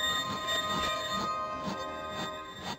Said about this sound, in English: The train pulled up at a small wayside station, and we all descended.